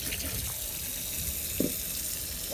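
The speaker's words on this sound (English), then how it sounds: "So I poured everything in my sink, and right now I'm just cleaning it up a little bit." Tap water runs steadily into a kitchen sink while turkey necks are rinsed and cleaned. The splashing stream is continuous and close, with small shifts as the water hits the meat.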